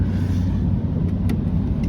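Old American car with a 5L V8 engine rolling in at low speed, a steady low rumble close by with no talk over it.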